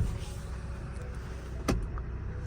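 Hyundai Porter truck running at idle or low speed, a steady low engine rumble with harmonic hum, a brief sharp transient near the end, no talking.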